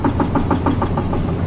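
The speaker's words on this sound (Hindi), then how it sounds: "ये 3 मोटर है कूलिंग वाटर के लिए जो पंप करते हैं" Cooling water pump motors run in the engine room of a bulk carrier cargo ship, a loud steady mechanical hum with a regular rapid knocking pulse, close by and without voices.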